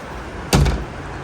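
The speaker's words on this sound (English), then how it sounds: "Finally, I've been able to lock the door" A door is pulled shut with a single solid thud and a short rattling latch, close by, while strong wind rushes steadily in the background.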